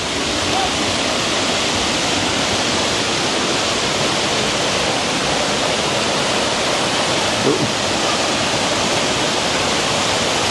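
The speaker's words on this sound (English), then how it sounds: "River clean and nice." A river rushes in a steady, dense wash of flowing water, loud and continuous for the whole stretch, with no clear talking.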